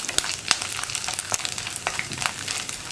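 Chickpeas frying in a pan for kadala mezhukkupuratti, giving a steady crackling sizzle with a few sharper pops and spoon stirs scattered throughout, close and fairly quiet with no voices.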